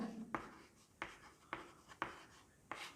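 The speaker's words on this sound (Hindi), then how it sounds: "यहां लिख दे रहे हैं" Chalk or marker strokes on a board during a classroom lesson, heard as a handful of short, quiet scratches at irregular intervals, roughly five distinct strokes, close by and with no talking over them.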